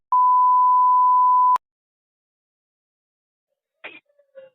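A steady single-pitch phone tone sounds alone for about one and a half seconds and ends in a click, followed by silence and then a short burst of faint phone-line noise.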